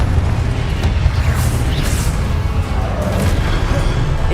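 A Confringo blasting spell explodes in Hogwarts Legacy, a dense, roaring boom over continuous loud low rumble and crackling debris noise that fills the whole stretch.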